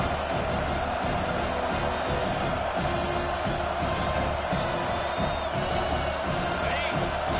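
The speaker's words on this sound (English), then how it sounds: "Here comes this home crowd as the defense tries to get off the field on 3rd down." Home crowd roaring and cheering at a football game as the defense faces third down, a dense, sustained stadium wall of noise with whoops and shouts throughout.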